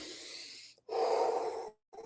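A man takes a deep breath close to the microphone: a long airy inhale, a brief pause, then a fuller, throatier exhale lasting nearly a second before a short fresh breath begins, with no talking.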